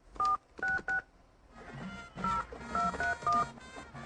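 Touch-tone telephone keypad beeps as a number is dialed, three quick tones, a pause filled with faint noise, then a second run of several short beeps in steady rhythm.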